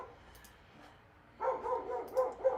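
Dogs bark in quick repeated bursts through the second half, fairly close and loud, after a quieter opening with faint room noise.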